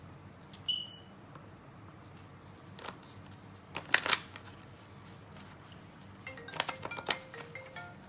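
A new deck of tarot cards is shuffled nearby in a few quick riffling bursts, separated by quiet pauses over a low background hum, with a brief electronic beep near the start.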